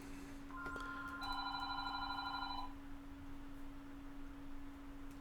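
A telephone rings with a steady electronic two-tone trill, fairly clear against a low constant hum in a quiet room, lasting a couple of seconds before stopping.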